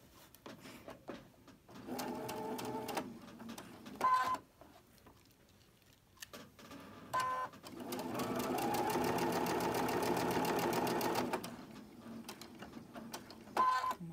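A sewing machine stitches fabric in several bursts of rapid mechanical whirring, the longest run lasting a few seconds, with short pauses and clicks of handling between them.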